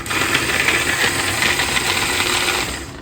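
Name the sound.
electric chopper chopping garlic and green chillies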